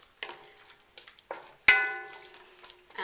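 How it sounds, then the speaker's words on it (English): Carrots and vegetable or fish stock stirred in a pan, with several close scrapes and knocks of a utensil against the metal, one louder clang ringing out briefly. "Stir everything around so everything's nicely covered."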